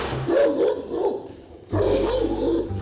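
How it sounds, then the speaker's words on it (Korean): Several Ovcharka dogs bark in deep, repeated bursts, loud and near, with overlapping barks and a rougher, heavier volley joining after a brief lull. "토르 짖으니까 바로 짖죠?"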